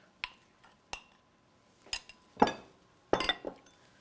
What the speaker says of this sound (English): And you mix all of that together.